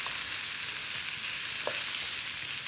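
Thinly sliced brown onion fries in a pan with a dense, continuous sizzle, moderately loud and close, marked by a few small crackles and stirring scrapes, and no voice over it.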